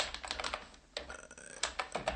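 Quick keystrokes on a computer keyboard, a burst of close clicks, a brief pause, then another run of taps, heard alone without talk.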